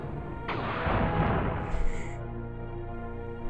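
Planetary missile launchers firing on attacking starships in the space strategy game Ascendancy, a sudden loud burst of rushing, crackling noise that swells and decays, followed by a brief high electronic whine over a low steady hum.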